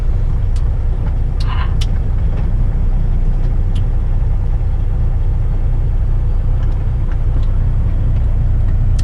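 A loaded truck's engine drones steadily and loudly while driving, a constant low rumble with occasional faint clicks and rattles inside the cab.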